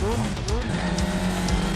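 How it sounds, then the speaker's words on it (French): Motorcycle chase in the 1989 film Black Rain: engines whine and rev with squealing tires and rushing motion, loud and busy, with a voice speaking over the action. "Poursuite à moto."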